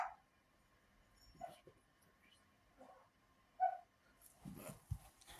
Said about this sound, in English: Stupid ass dogs.